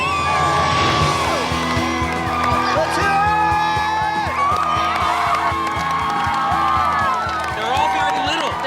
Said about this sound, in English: They were screaming and they were yelling.